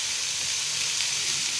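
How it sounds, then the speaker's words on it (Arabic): Burning charcoal set into a spoonful of oil on a small piece of foil for flavouring shish tawook, giving a steady, loud, close sizzle and hiss with no break. "هنجيب الفحمه المولعه ونحطها بالشكل ده في الزيت"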